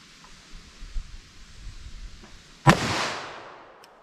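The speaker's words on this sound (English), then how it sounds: "let's see what we get with our 4-inch barrel on our plain clear ballistics gel shot" A .38 Special +P handload fired from a 4-inch barrel into clear ballistics gel gives one loud, sharp report that rings out into a long decaying echo, after a stretch of quiet rustling.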